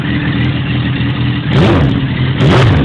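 A Suzuki GSX-R 1000 fitted with a custom Yoshimura RS3 exhaust idles with a low, steady rumble, then revs up sharply twice in quick succession, loud and close.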